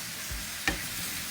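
Curry chicken is stirred in an electric skillet. It fries with a soft, steady sizzle, broken by a couple of brief scraping strokes, one sharper than the other.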